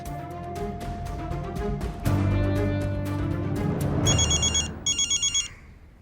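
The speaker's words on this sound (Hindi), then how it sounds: "तुम फोन लगाओ देव के बाबा को।" A telephone rings steadily under a dense musical backdrop, then bright trilling bursts of ringing sound twice near the end before fading.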